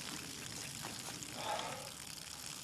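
Water pours and gushes steadily out of a 10-gallon container shot through by a snub-nose revolver, a continuous splashing stream that rises slightly midway, with no one talking.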